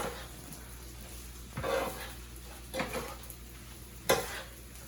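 Onions, egg and peas stir-fried in a pan for shrimp fried rice: a soft background sizzle with three distinct scraping, clattering bursts of a utensil stirring against the pan.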